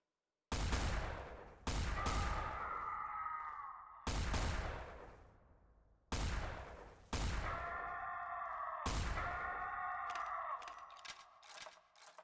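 The Mark III weapon in Garry's Mod Star Wars RP fires about six heavy, booming shots, each followed by a ringing tail. The shots come close and loud with irregular gaps, and the last ones ring on longer.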